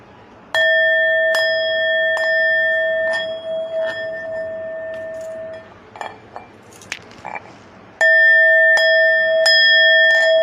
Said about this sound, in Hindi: वहाँ पे घंटारों की ध्वनि हो रही है।